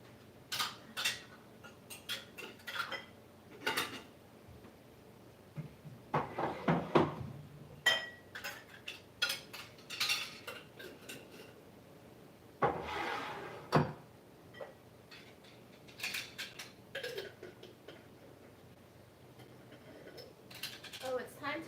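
Glass jars being put away after washing, clinking and knocking against each other and shelf surfaces in scattered bursts, close by and moderately loud, with no one talking.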